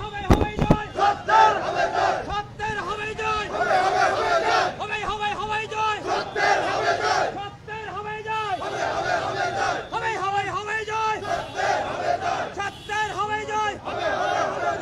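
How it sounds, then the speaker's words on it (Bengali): A crowd of protesters, dismissed armed forces members demanding reinstatement, chanting slogans in loud unison, rhythmic call-and-response bursts repeating steadily over a crowded outdoor sit-in. "তারা স্লোগান দিচ্ছেন"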